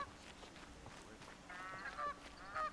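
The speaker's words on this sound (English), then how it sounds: "No, they're geese, aren't they?" Geese honking in Horizon Zero Dawn, several faint calls scattered over quiet outdoor ambience, growing a bit louder toward the end.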